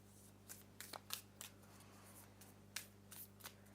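Tarot cards are shuffled in a quiet room, giving a series of short, crisp riffles and flicks spaced irregularly over a faint steady hum, close and soft.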